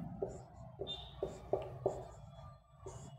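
Chalk or marker tapping and stroking on a classroom board during a Hindi-medium Class 6 maths lesson on numbers: several short, distinct taps and scratches spaced about half a second apart, close and moderately loud, with no speech.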